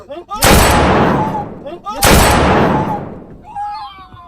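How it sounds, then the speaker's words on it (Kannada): Two loud, sharp gunshots ring out about a second and a half apart inside a car during a prank, each with a long decaying echo, followed by faint voices. "ಶೂಟ್ ಮಾಡ್ಬಿಟ್ಟಿದ್ದೀನಿ"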